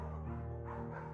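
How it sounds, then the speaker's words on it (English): A beagle bays in the Firewatch video game, its trumpet-like howling bark faint and drawn out over a low steady background. "Beagles, oh, they're barks. They're like trumpets."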